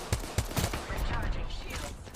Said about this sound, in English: Knuckle cluster's firing